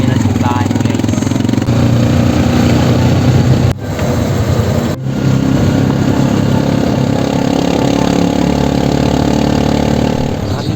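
A motor vehicle engine runs steadily throughout a ride to church, a loud continuous low drone with a couple of brief bumps, with voices talking over it.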